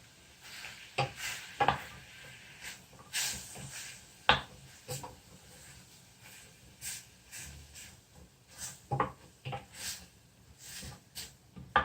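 Butter sizzles and hisses in a pan as it is stirred into S&B Golden Curry, with soft frying noise, repeated stirring scrapes and clicks at close range, and quiet intermittent sounds.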